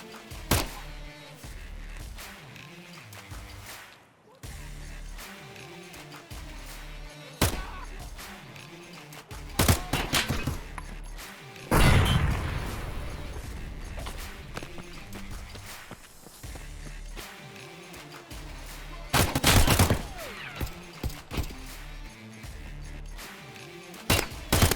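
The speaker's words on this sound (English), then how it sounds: "that sound you just heard were suppressed shots, most likely from a PMC engaging the guards from the other side" Suppressed gunfire in Escape from Tarkov, where a PMC engages guards from across the area: dull muffled shots in scattered short bursts at mid distance over footstep-like shuffling and ambient game noise.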